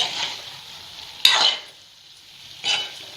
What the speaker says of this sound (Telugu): దీంట్లో ఇలా వేసుకొని బాగా ఒక్కసారి మంచిగా ఇలా కలుపుకోవాలి.